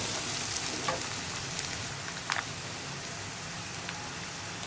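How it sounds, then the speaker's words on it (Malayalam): Ginger garlic paste frying in a pan for egg curry, a steady soft sizzle with faint crackles and a few small pops, close and even throughout with no talk. "ഇനിയിപ്പോൾ നമുക്കിതിലേക്ക് ജിഞ്ചർ ഗാർലിക് പേസ്റ്റ് ആഡ് ചെയ്യാം."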